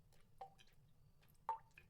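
Small water splashes in a dark stone tunnel, two sharp wet plops about a second apart over a low rumbling background, fairly faint and echoing.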